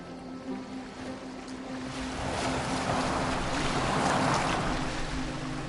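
A boat sailing across open water in Assassin's Creed Valhalla, with steady wave wash and wind that slowly build in loudness, plus a faint low engine-like hum.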